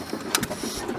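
A restored antique gas engine nicknamed the mailbox engine runs at a vintage engine crank-up show, giving a steady, close mechanical chugging with a few sharper knocks and no talk.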